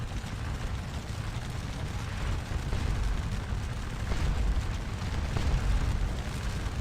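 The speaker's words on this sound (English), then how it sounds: "that's us firing our canister" Artillery firing canister shot in the Napoleonic battle game Scourge of War Waterloo, at Ligny, heard as a dense continuous low rumble of booms with no clearly separated blasts.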